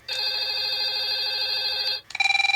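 A Jack Bauer 24-style ringtone plays on a Google Sooner phone, starting as a loud, sustained electronic tone and then switching to a quick pulsing ring at the end, with nobody speaking.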